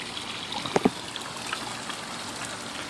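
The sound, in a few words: water trickling over rock edge from pond pump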